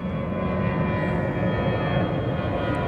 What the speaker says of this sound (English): Planes overhead.